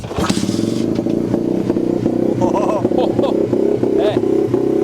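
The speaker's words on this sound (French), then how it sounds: "Je déteste démarrer ces motos." A cross kart engine, unrun for at least four years, sputters to life after choke is applied, then settles into a loud, close, rough idle with a steady chugging pulse and occasional revs, while a voice talks briefly over it.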